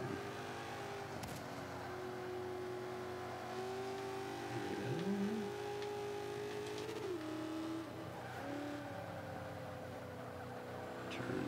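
A Ford Raptor truck in Forza 5 drives with a steady, droning engine whose pitch rises and drops through gear changes and braking, plus a brief tire squeal, continuous and close throughout.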